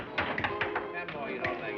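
Dice in a back-room craps game clatter in a short run of light, quick taps and knocks, close and moderately loud over a murmur of background voices.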